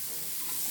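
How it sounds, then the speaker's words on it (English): Grated raw banana fries in a pan over a low flame, giving a steady, even sizzle with a faint stirring rustle and no voices. "Fry and then add the grated, slow down the flame and then add the grated raw banana or Vadai."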